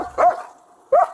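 A dog inside a car gives two short, sharp barks about a second apart, close and fairly loud, with quiet between them.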